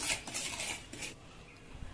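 A spoon scrapes and clinks against a bowl while stirring sugar into half a cup of oil for an eggless marble cake, soft and close, in a few uneven strokes.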